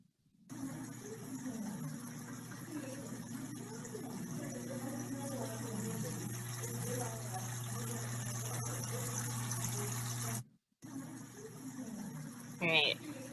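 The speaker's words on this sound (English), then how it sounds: "you can see that it actually has a pump, pulls the water up." A small water pump in a model lifts water, giving a continuous low hum and gushing trickle that runs steadily for about ten seconds, cuts off briefly, then resumes more faintly.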